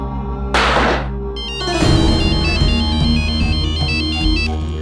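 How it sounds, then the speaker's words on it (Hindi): A phone's electronic ringtone plays a repeating melodic tone pattern for several seconds while an outgoing call is placed. Two sharp thuds come early, then the tune carries on loud and close. "एक काम करो, फोन लगाओ उस राजवीर को"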